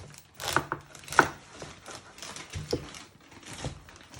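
A vegetable being chopped for spring rolls: a run of sharp, uneven chops at close range, some louder than others, with no talking.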